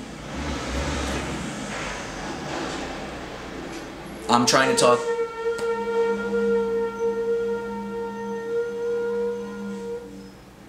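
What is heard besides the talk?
trucks passing outside the ground-floor apartment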